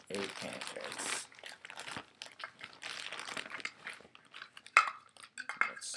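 Flour poured into a mixing bowl for pancakes comes through as irregular bursts of papery crinkling and soft, gritty rushes, close and moderately loud, with short quiet gaps between them.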